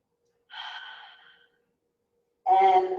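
Deep, audible breaths during a power yoga flow: one long airy exhale, a pause of silence, then a louder, fuller breath close to the microphone.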